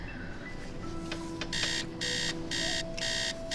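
A repeating electronic alarm clock buzzes in the Nancy Drew game Message in a Haunted Mansion, four loud bursts in steady on-off rhythm over faint background game ambience and a soft tone.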